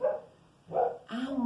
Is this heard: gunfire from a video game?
no